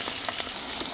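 Cinnamon, cardamom and cloves frying in oil over medium heat for a fish biryani, a soft steady hiss with a few faint crackles, heard briefly without talk.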